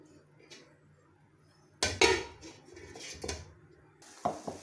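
A lid is set over a pan of pizza pockets with a clattering metallic knock, followed by a few softer clinks and faint sizzling in a quiet kitchen.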